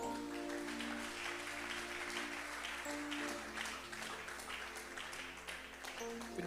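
A church congregation claps and cheers to acclaim Jesus, with dense, sustained applause and some voices mixed in. It stays steady and fairly loud throughout.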